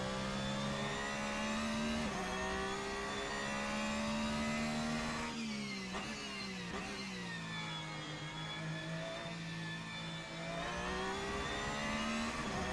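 A race car engine in Assetto Corsa, loud and sustained, pitch rising through the revs, then dropping sharply at gear changes before climbing again, heard from the cockpit with no voices.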